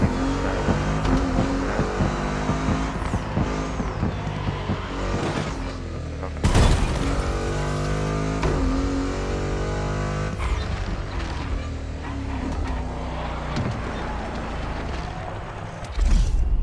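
A Ford Puma Hybrid racing in The Crew Motorfest on Xbox Series X, its engine droning and revving steadily with repeated gear changes, plus a sharp impact partway through, loud and close throughout.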